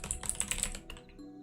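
Rapid clicking of keys on a computer keyboard, close and fairly loud for about a second, then trailing off into a few lighter taps.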